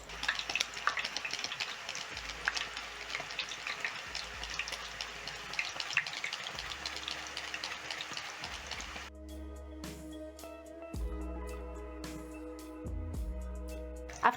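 Banana slices sizzle in hot oil, a steady close crackling hiss that shifts partway through to sparser popping with some clinking and stirring, no voices.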